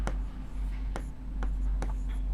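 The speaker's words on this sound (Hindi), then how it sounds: "हम लिखेंगे समीकरण" Chalk or marker scratches on a board as a teacher writes out a linear equation, a few sharp strokes spaced about a second apart over a low steady hum, close and fairly quiet.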